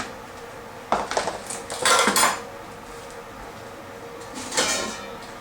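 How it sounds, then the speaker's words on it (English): A stock pot of about two and a half gallons is pulled out and handled, giving metallic clanks and scraping knocks in a few bursts, close by and with no talking. "Then I take a stock pot"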